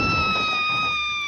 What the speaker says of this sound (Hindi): तुम इतना जोर से चिल्लाई क्यों?